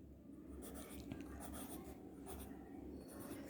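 Pen or pencil strokes writing the word apple by hand on paper in a classroom lesson, a steady close scratching of several short strokes with no talk.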